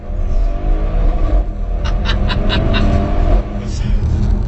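An Audi RS6 under hard acceleration, a loud, close engine roar that climbs steadily with a rhythmic burbling pulse through the middle, with no speech.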